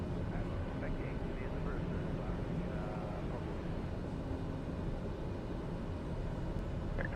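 TBM turboprop aircraft taxiing at Sedona airport toward the runway, heard as a steady engine drone and hum from inside the cockpit, with radio talk over it.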